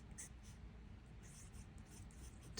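A Tasha fountain pen with a very wet-writing zoom nib moves across paper, giving soft, close scratches with a few brief, sharper strokes over a quiet background.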